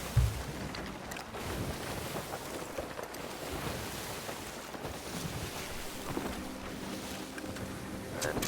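A sailing ship moves across the sea in Sea of Thieves, with a steady wash of water and wind rushing around it and a faint tonal hum creeping in late, no voices.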